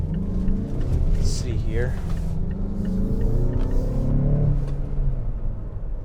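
A 2021 Mazda CX-5 Grand Touring Reserve with all-wheel drive pulls hard from inside the cabin, its engine note rising as a steady rumble beneath someone talking.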